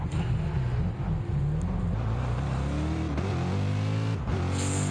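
Race cars lapping an oval in Gran Turismo Sport make a loud, constant engine howl, the pitch climbing and shifting as the engines rev.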